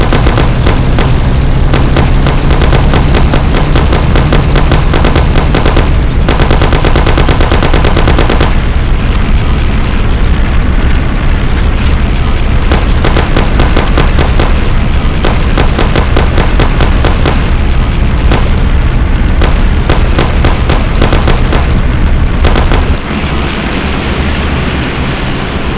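Dense, loud gunfire rattles almost nonstop in Mafia: The City of Lost Heaven, with rapid machine-gun bursts and heavier booming shots piling over a low rumble for nearly half a minute.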